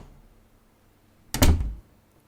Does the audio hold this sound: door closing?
yes